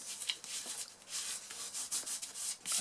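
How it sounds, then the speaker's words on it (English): A fingertip rubs dried masking fluid off watercolour paper, giving a soft, steady, close dry scratching that keeps going with small rhythmic pulses and brief brighter strokes. "to take off the masking fluid, you simply rub it with your finger"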